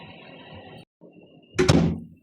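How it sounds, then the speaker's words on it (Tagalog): A door swings shut with a solid, fairly loud thunk after a quiet stretch of room noise, the impact ringing briefly before fading. "Sarado natin ang pinto."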